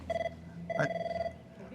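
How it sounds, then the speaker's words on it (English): A telephone rings in two electronic bursts, the first brief and the second longer, with a voice briefly overlapping the second ring. "there goes your phone"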